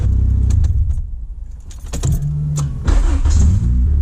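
A 1990 Honda Civic Si hatchback with a B20 VTEC engine fails to start: keys jangle, then there are short bursts of starter cranking and low mechanical thumps, and the engine never catches.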